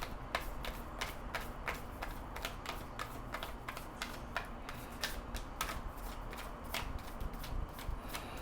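Tarot cards being shuffled by hand in a steady run of crisp, rapid riffling clicks and flutters, close and continuous with no voices.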